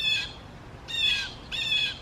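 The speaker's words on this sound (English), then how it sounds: "we're just gonna have to deal with the birds, I'm sorry" Birds squawk outdoors in three shrill, harsh bursts with short gaps between them, fairly close and clear over a quiet background.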